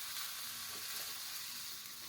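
Scrambled eggs with Cheetos cheese puffs sizzle in a hot pan, a steady bright hiss and crackle close up with faint stirring underneath, no voices.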